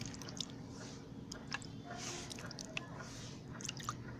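Water poured onto moist potting soil for coriander, giving a soft, continuous wet splashing that swells in several waves over a low steady hum.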